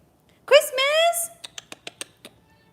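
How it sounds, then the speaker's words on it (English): A pet cat gives one long, rising-then-falling meow up close while wanting to be fed. A few soft ticking taps follow it. "this is my cat"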